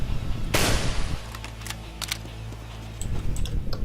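Gunfire from the game PF2: a loud shot bursts out, then a steady hum runs under a string of sharp, evenly spaced reports, with more scattered shots at the end.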